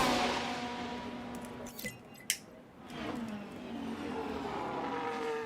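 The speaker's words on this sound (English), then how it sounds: "We've got a Ferrari leaving the pits." A Ferrari race car in the F1 Manager 24 racing game pulls out of the pits with a steady engine tone that dips briefly, followed by a couple of sharp clicks, then rises again into a sustained drone. No one talks over it.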